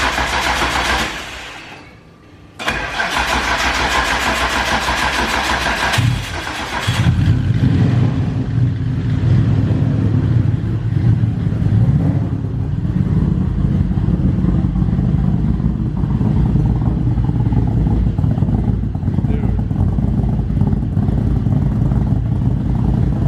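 A 1400hp Nissan R33 Skyline GTR fires up after a brief cranking and pause, then settles into a loud, rough, lumpy idle that holds steady with occasional rises in revs, close by and without talk.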